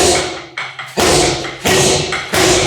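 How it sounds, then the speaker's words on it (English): Boxing gloves hitting a synthetic leather reflex bag, loud close thuds landing roughly every half second to second in an uneven rhythm, with no talking. "I fantasize about that beautiful snap sound of leather on leather"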